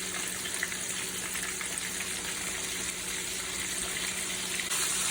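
Floured buttermilk chicken thigh frying in hot oil, a steady, even sizzle and crackle holding close and loud throughout with no pauses.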